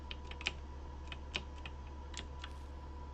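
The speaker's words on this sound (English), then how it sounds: "You can hear me clicking as I'm moving" Faint scattered clicks, a few sharper than the rest, under a steady low electrical hum, with no talking.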